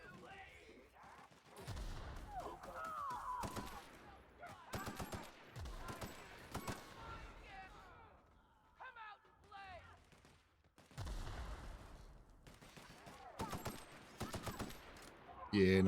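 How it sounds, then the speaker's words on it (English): Grenade launcher fire in The Outer Worlds, a run of explosive blasts and bursts in uneven clusters across a loud game battle, with voices talking intermittently. "that grenade launcher's coming in handy"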